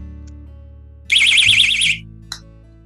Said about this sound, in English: What they are, it's just a keychain. And when you have it on your purse or on your belt loop, and when you pull it, it makes a very loud noise.